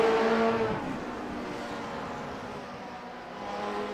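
Racing car engines from the Grand Prix Legends video game at Brands Hatch roar continuously as two cars fight for traction, a loud, steady snarl that dips slightly mid-way and swells again near the end.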